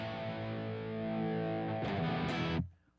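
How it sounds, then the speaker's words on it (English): Electric guitar played through an Analog Man Prince of Tone pedal in overdrive mode into a Sobtech MiG 50 amp, holding a sustained overdriven chord, then a brief strummed change before cutting off abruptly near the end. "The Prince of Tone now is in OD mode."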